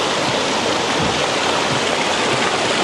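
River water flowing in a steady, loud, broadband rush with no pauses, close by and alone without any talk.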